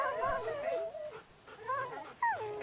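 Dogs in the post-apocalyptic video game Wasteland 2 whimper and let out rising, wavering howls, with a few separate cries over about three seconds and no speech.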